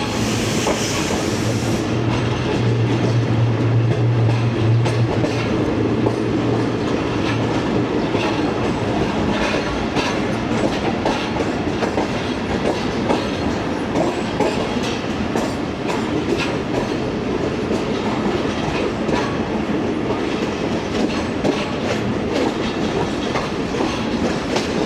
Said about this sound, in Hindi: जो ये ट्रैक्स की आवाज़ें